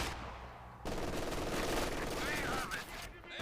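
Machine-gun fire in the strategy game Company of Heroes 2, sustained rapid bursts that swell sharply after a quiet start and run on for over two seconds amid dense battle noise.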